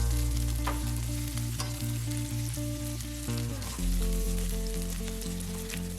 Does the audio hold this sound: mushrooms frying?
yes